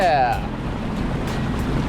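A Sea-Doo personal watercraft runs across the open ocean with a steady, close roar of engine, water and wind, and a brief tonal voice-like sound at the very start.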